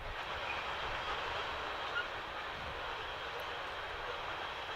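A train rumbles past near a small ballpark, making a steady, loud, broadband roar with no breaks or distinct clacks, holding at the same level throughout, with no talking over it.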